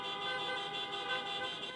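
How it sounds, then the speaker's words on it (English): Taxi cab horns blare continuously in a dense, overlapping chorus during a drivers' protest in downtown Chicago, loud and sustained with slight pulsing, traffic crawling bumper to bumper. "Riding bumper to bumper while honking horns, cab drivers make their way through downtown Chicago protesting against unfair ride-sharing services."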